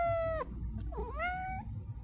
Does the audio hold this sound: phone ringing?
no